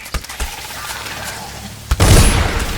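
A gunshot goes off in the video game Dishonored, a sudden loud boom followed by a rumbling tail, preceded by a few soft thumps.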